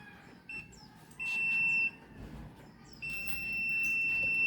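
A multimeter in continuity mode beeps over a shorted circuit in a Toyota Vios, giving several sustained high-pitched tones in separate bursts, clear and close against a faint background.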